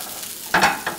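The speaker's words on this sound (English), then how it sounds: "Give it a good stir every once in a while." A spatula stirring a vegetable and egg omelette mixture frying in olive oil, a quiet sizzle broken by two brief scraping strokes near the end, no talking.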